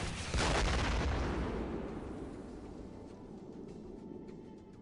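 A rocket fires in the video game X-Com Files with one loud, sudden boom that decays into a long rumbling tail over several seconds.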